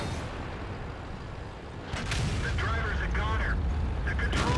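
Two booming tank cannon shots in World of Tanks crack out over steady battle rumble, followed by a faint radio-like voice in the game audio.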